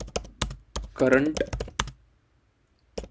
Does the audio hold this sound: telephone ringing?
no